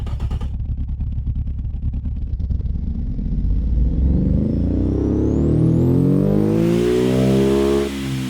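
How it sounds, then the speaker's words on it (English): High-compression car engine in the Automation game revs up, starting with a rough low idle that climbs into a loud, rising, sustained roar with a high whine near the end, no voices present. "that's definitely a high compression engine"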